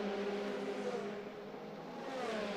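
Formula 3 race cars with Mercedes engines climb uphill through the gears into a corner at a European championship round, a steady loud engine whine with shifting harmonic tones and no pause.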